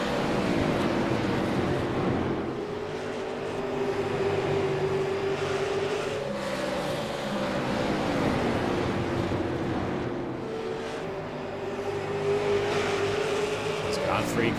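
Race cars roar around South Boston Speedway, engines surging and fading in waves as they pass, loud and continuous beneath an announcer's commentary.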